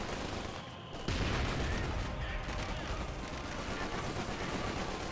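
Gunfire in a Company of Heroes 2 battle, dense overlapping rifle and machine-gun bursts, a heavy blast near the one-second mark, then a continuous loud barrage with a faint voice underneath.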